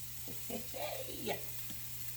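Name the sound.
rough chopped garlic sizzling in a pan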